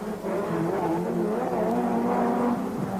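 Touring race cars from 1990 roar past on the Birmingham Superprix street circuit, a steady loud engine drone with rising and falling pitch, close by and without talk.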